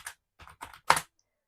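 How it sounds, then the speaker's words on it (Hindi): Keystrokes on a German-layout computer keyboard, four short taps and clusters spread unevenly over under two seconds, close and fairly quiet, the last press the loudest, with no voices. "मेरा जो कीबोर्ड है ना तो जर्मन कीबोर्ड है, जिसकी वजह से जो मैं टाइप करूँ तो मुझे थोड़ी मुश्किल हो रही है"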